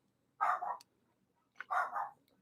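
A Lhasa Apso gives two separate sharp barks about a second apart, close and fairly loud, with quiet gaps between them.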